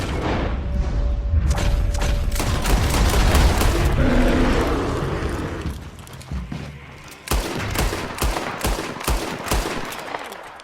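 Heavy video-game gunfire in Red Dead Redemption 2, with rapid shots and booming blasts building into a dense barrage, then a string of sharp, distinct gunshots after a short lull.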